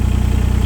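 A 2015 Yanmar VIO17 mini excavator engine runs at a steady idle, a close, loud, even low throb with rapid regular pulses.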